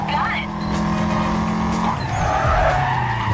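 Car tires screeching in the Need For Speed Carbon racing game, a loud sustained squeal through a sharp corner over a droning engine, with a player talking under it.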